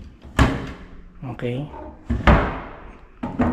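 Doors and built-in cabinet doors at a beachfront resort in Palauig, Zambales, bump and thunk open and shut in a few sharp knocks spread across a few seconds, close by, while a person speaks briefly between them.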